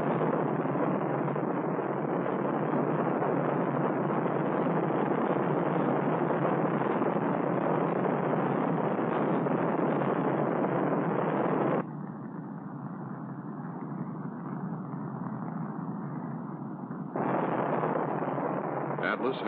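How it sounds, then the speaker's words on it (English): Atlas launch vehicle engines igniting at liftoff, two booster engines and a sustainer, a continuous heavy roar that turns muffled and thinner partway through and then returns to full strength, with speech likely underneath. "The Atlas launch vehicle ignites."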